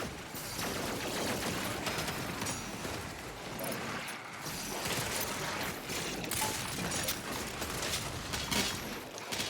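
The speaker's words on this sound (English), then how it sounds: "The super shotgun is so good." Super shotgun blasts in Doom Eternal amid dense continuous game combat noise, with repeated booming shots, mechanical reload clacks and chaotic gunfire layered throughout at moderate level.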